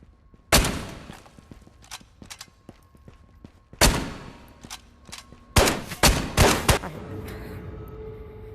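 Springfield rifle fire in the video game Ghost of Tabor: a handful of loud, sharp shots spaced irregularly, with a few fainter distant cracks and pops between them and a lingering tail after each blast.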